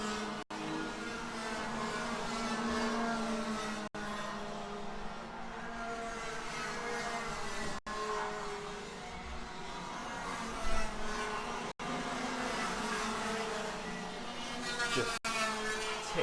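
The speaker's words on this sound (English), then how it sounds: "Kart has managed to get going, might as well continue" A racing kart engine buzzes steadily as the kart rejoins a 15-minute kart race final, holding a continuous drone with pitch shifts over several seconds.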